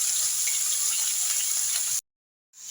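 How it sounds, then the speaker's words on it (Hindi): Cauliflower frying in a pan gives a loud, steady hiss of sizzling oil with light crackle. The sound cuts to silence for about half a second, then resumes. "गोभी को हम थोड़ा फ्राई करेंगे इसको"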